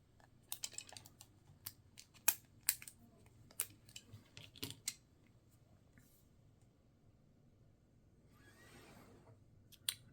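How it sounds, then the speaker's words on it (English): Sharp snips and crinkles as Tone nippers cut through plastic tool packaging, a string of scattered clicks near and quiet, then a soft rustle of plastic. "Cut them out of here with the Tone nippers"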